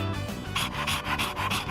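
A dog panting in Persona 3 Reload, quick rhythmic breaths repeating steadily and close, with a soft snort, over quiet background game music.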